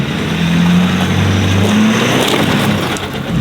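A Ford 6.7 Powerstroke diesel truck engine roars loud and close off-road, a steady heavy drone that swells and sags slightly as it revs under load, with no talk.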